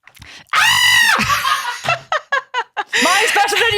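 A person imitates a screaming goat: a loud, drawn-out strained bleat, then a few short clipped bursts and a final rising cry, close up with no other talk.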